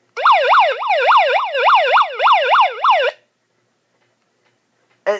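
A flashlight's siren mode wails loudly and close for about three seconds, a rapid rising-and-falling electronic tone that cuts off abruptly, then near silence before a brief burst at the end.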